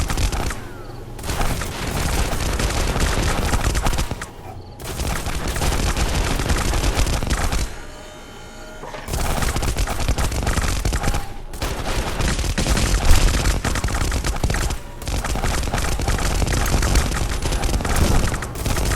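Units trading fire in the space strategy game Stars End, loud rapid volleys of gunshots and booms in near-continuous bursts, broken by a few brief lulls.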